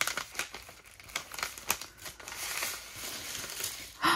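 A plastic bag holding planner stickers is handled close up, giving continuous crinkling and rustling with a few sharper crackles and no talking.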